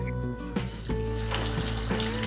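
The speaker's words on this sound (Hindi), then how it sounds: "हमने इसको मीडियम टू लो पे इसको फ्राई करना है ताकि अंदर से अच्छे तरीके से फ्राई हो जाए" Batter-dipped pinwheel samosas fry in oil over medium-low heat, giving a dense, steady sizzle close up, with a few soft splashes as more pieces drop into the pan.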